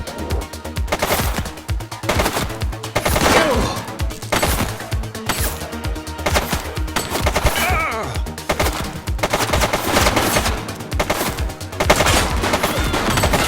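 Rapid, loud bursts of gunfire from the police video game The Precinct crackle almost without pause, with shots overlapping in dense volleys.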